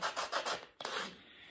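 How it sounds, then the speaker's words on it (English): Old felt is sanded off the wooden spring rail of an upright piano, with about five quick rhythmic rubbing strokes, a brief pause, then one longer scrape, close and fairly loud. "just get that completely sanded down till it's looking somewhat where you can see the wood underneath it"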